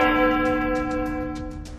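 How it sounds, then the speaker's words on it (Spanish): A church bell rings steadily and loudly, its rich sustained overtones filling the space, with no voices heard. "De repente se escuchó la campana de una iglesia"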